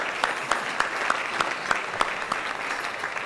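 A seated crowd at a county chamber meeting claps for new chamber members, a steady, moderately close applause with a few sharper rhythmic claps standing out.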